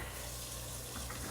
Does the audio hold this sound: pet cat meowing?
no